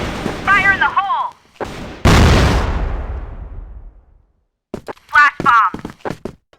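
A grenade explosion in the Crossfire video game: one loud, close blast with a long rumbling tail, between short in-game voice callouts before and after.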